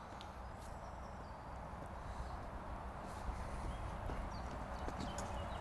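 Horse hooves clip-clop steadily during a riding lesson, a soft rhythmic footfall pattern set against a broad, noisy arena background.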